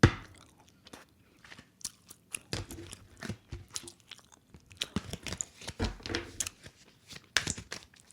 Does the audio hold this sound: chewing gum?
yes